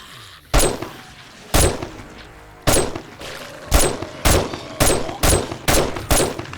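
Sniper rifle fire in the video game 7 Days to Die rings out in eight loud, sharp single shots, spaced unevenly at first and then coming faster, each with a short echoing tail.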